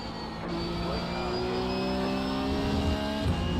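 A race car with a broken engine in a racing game drones at a steady high pitch, a sustained, fairly loud whine that rises slightly before a brief dip near the end, with no talking over it.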